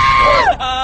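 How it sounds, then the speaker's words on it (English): A crowd of people screaming in the desert with swords, a loud, sustained chorus of high wavering shouts that rises and falls briefly. "A bunch of people screaming in the desert with swords."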